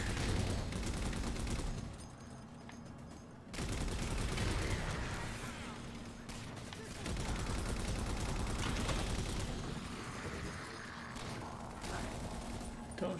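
Dense, sustained gunfire from Halo 4 comes in long rattling stretches broken by brief lulls, with weapons firing close by and overlapping one another in a chaotic firefight.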